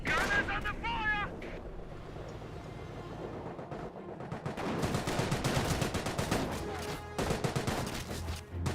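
Gunfire fills a Company of Heroes battle: dense rattling rifle and machine-gun bursts with booming impacts, continuous and loud, with brief game voice chatter at the start.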